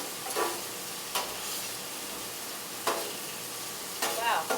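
Steak, potatoes and asparagus sizzle steadily on a very hot griddle, with a constant frying hiss and a few sharper scraping bursts as the food is stirred and pushed around.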